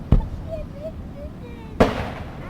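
Model battleship guns fire during the mock naval battle at Peasholm Park, Scarborough: two sharp booming reports about a second and a half apart, loud and outdoors, with a faint whistle and murmur between them.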